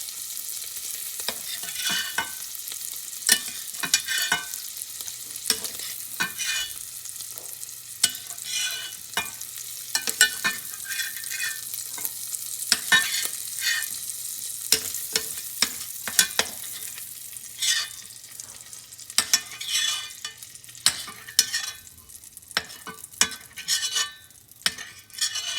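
Food fries in browning butter in a pan, a steady sizzle and crackle with a spatula scraping and stirring throughout, close and fairly loud, with no talking.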